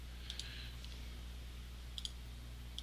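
Computer mouse clicks while working in CorelDRAW, crisp close clicks in quick pairs, spaced out over a steady low hum, with no talking.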